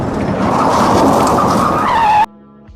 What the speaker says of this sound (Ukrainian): Згадайте, як востаннє ви ухилилися від зіткнення із зустрічним автомобілем саме вчасно.